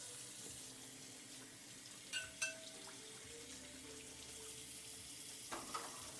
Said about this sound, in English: Wash some dishes.